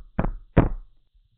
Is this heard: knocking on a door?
yes